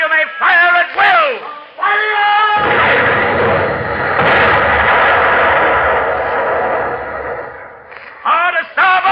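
Ship's cannons fire in a broadside during an old-time radio drama, a long rolling boom of gunfire and echo that rises sharply, then fades under shouted voices before and after.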